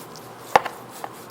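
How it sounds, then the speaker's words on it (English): A big sharp knife slices through a sous vide prime rib with a garlic herb butter crust, giving one sharp near cut followed by a softer second tap and a faint third, alone without talk. "A nice big sharp knife to cut you off a beautiful piece."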